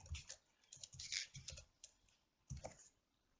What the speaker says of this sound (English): I will type and say her name is Valerie.